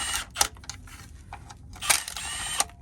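Impact driver working on bolts of a GM 5L40E transmission from a BMW E46 3-Series, giving several short rattling bursts and clicks with pauses between them, close and alone.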